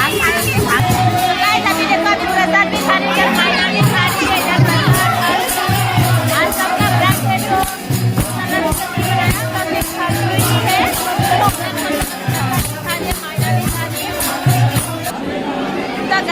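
A large crowd at a Maha Shivaratri puja at a BSF battalion, a dense, loud, continuous hubbub of chatter and shouting voices with someone talking over it nearby.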